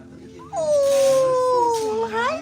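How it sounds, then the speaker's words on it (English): A small toy poodle named Poppy gives a drawn-out, wavering whine and howl close by, rising and falling in pitch for about two seconds. "She's a little toy toy poodle."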